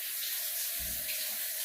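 Water gushing out of a faulty kitchen tap fixture during a bad kitchen remodel, spilling out the sides and running down, a steady bright hiss of flowing water with a brief low splash midway, no talking.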